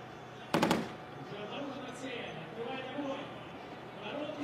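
Volleys of 12.7mm heavy machine gun fire on a tank range during the Army Games, heard as one brief rapid burst of several sharp shots under steady background noise, followed by distant rumble and faint commentary.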